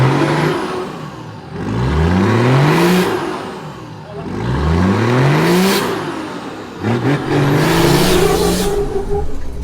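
A 4WD engine crawls in second gear up a steep mountain track in the Watagan Mountains, rising and falling in three long revving swells with whirring drivetrain strain, loud and close, with no talking.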